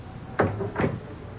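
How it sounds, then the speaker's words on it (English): Two soft, close knocks or thumps about half a second apart, like a door being pushed shut in an office scene of a radio drama, heard over a low steady background hiss with no talking. "Close the door, please."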